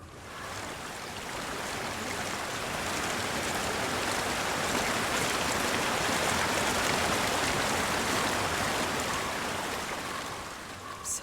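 Water flowing steadily in a stream in the video game Hellblade, a continuous loud rushing wash that swells in and fades slightly at the end, with no voices over it.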